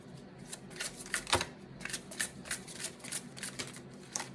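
Tarot cards are riffled and shuffled close to the microphone, giving a steady run of quick papery flutters with one sharper snap partway through.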